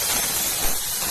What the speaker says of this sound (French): je vais envoyer ma vapeur